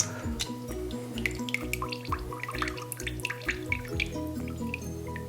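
Hot whey from mozzarella curds drains into a colander with steady splashing and dripping, close and continuous, with tonal clinks and hum underneath.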